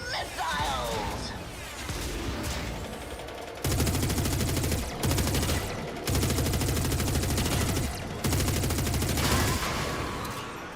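Missiles fire in a Warframe battle as heavy, rapid bursts arrive in long, loud blocks separated by short gaps, with dense rumbling weapon noise throughout.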